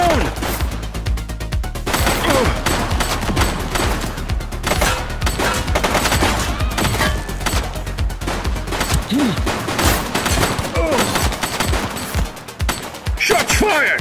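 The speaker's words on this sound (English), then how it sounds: "Shots fired!" Dense automatic gunfire from a police shootout in the video game The Precinct, with rapid overlapping bursts and shots that stay loud and close almost without pause, alongside shouted voices.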